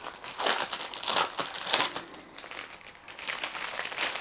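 A pack of vintage-style craft paper sheets crinkles and rustles as it is handled up close, in a series of soft crackling bursts that continue with no talking.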